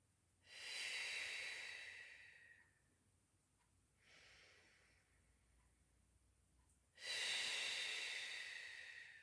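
Deep in-and-out breaths during a Pilates leg exercise, three soft airy rushes with a longer opening breath, a quieter middle one and a stronger final exhale, close and alone.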